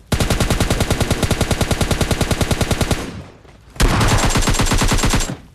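Rapid automatic gunfire in PUBG Mobile Lite, a loud close burst of evenly spaced shots lasting about three seconds, a brief pause, then a second sustained burst.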